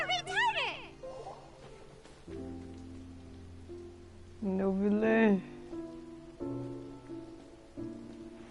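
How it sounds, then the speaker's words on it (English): Steady rain falls in Genshin Impact, a soft continuous patter under game music and character voices speaking throughout. "It's raining!"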